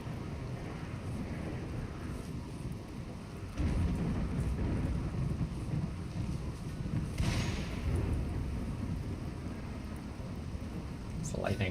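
Steady rain and rolling thunder in a Rimworld thunderstorm, a constant wash of rainfall with a loud rumbling surge partway through and another swell later, continuous and enveloping with no voices.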